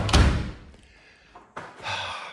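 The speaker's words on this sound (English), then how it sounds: "Pull the door shut." A door at a family lodge swings shut with a heavy slam, then, after a pause and a rustle, another dull thump and a short scraping sound follow, alone and close.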